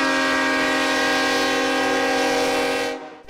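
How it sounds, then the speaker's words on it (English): The train carrying George H.W. Bush's flag-draped coffin passes through Navasota, Texas, sounding a long, loud, sustained horn blast that holds steady for several seconds before cutting off abruptly. "The journey of Bush's flag-draped coffin through Navasota by train is a rare event"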